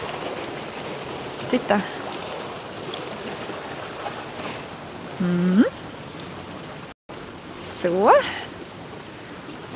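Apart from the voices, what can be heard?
water flowing over a small waterfall in Uppsala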